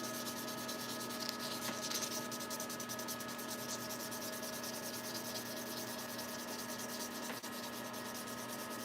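Fine hand sanding of unblemished briar tobacco pipes, a steady rhythmic rubbing rasp that runs continuously at close range, with no talking.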